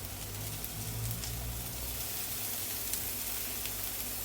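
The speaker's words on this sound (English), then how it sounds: "I'm going to go in with the meat that we've had marinating in the paprika, the salt and the pepper" Pork marinated in paprika, salt and pepper hits a hot pan, giving a steady close sizzle that holds for several seconds with no talk over it.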